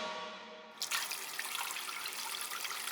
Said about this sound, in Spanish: cuando alguien abría una llave, brotaba agua